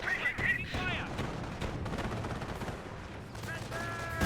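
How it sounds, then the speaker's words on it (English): Battle gunfire in the Company of Heroes strategy game, dense overlapping rifle and machine gun bursts with in-game voice barks, steady and mid-distance, running under a commentator's talk. "Taking fire!"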